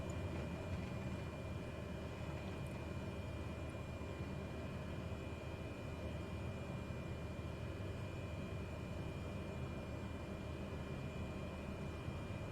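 An aircraft in Microsoft Flight Simulator slows for landing with full flaps over New Zealand terrain, giving a steady, unbroken engine drone with faint wind noise that holds level throughout.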